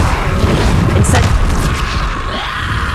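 A fire spell cast in Hogwarts Legacy bursts with a loud booming whoosh over dense ongoing game effects and a rumbling combat backdrop.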